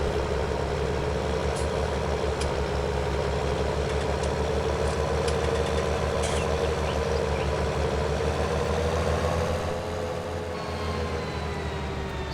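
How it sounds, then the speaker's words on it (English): A tractor in a farming video game chugs steadily with a deep, loud, even engine drone that runs unbroken, easing slightly near the end. "So now we can get this tractor back to the farm."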